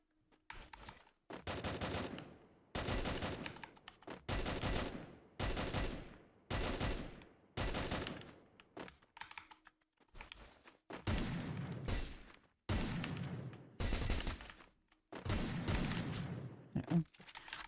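The AN rifle fires in a shooter game in about a dozen sustained full-auto bursts, each a couple of seconds long and separated by short silent gaps, loud and close.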